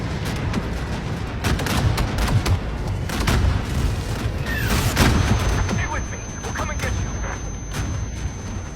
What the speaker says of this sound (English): if you are wondering about the explosions in the background, it's mainly because, well, if you are familiar with the Netherlands, around New Year's Eve it turns into an absolute war zone